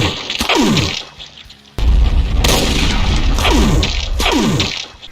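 A Hell Baron variant in a Doom mod video game fires railgun shots and rockets: loud booming blasts with sharp descending whooshes, repeated several times in a dense, heavy barrage with no talking.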